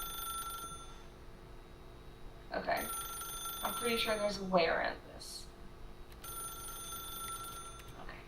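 A telephone rings in The Stanley Parable with steady electronic trilling tones that stop for a few seconds and then resume, partly under a voice speaking nearby.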